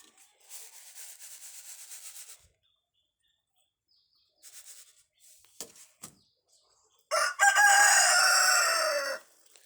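Chickens being fed rice: grains scatter in rustling bursts, then after a pause a chicken gives a loud, close, drawn-out squawking call.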